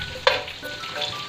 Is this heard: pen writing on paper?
no